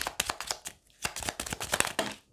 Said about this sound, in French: on tire une petite carte dans Ho'oponopono